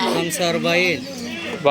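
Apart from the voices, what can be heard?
No everyday noises stand out.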